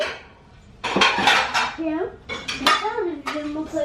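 Dishes and cutlery clattering as a dishwasher is unloaded, with several sharp clinks and clanks of plates and silverware in irregular bursts after a quiet start, close by.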